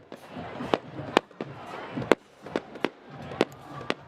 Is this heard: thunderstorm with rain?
no